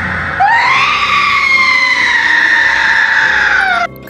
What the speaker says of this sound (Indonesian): Suster itu pun berteriak secara histeris melihat kejadian itu.